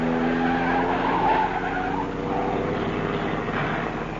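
A car speeds around a corner with tires squealing in a long, loud, sustained skid over a steady engine roar, heard alone in a vintage radio drama chase.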